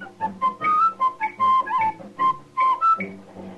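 A man whistles a lively tune alone, bright clear notes hopping up and down in a bouncy rhythm.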